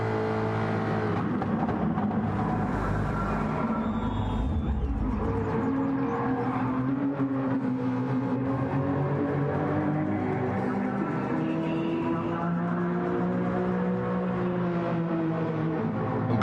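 A field of race cars in a sim racing game at Dragon Trail Gardens, engines droning and rising in pitch together as they accelerate, with a steady layered roar throughout and a louder surge early on.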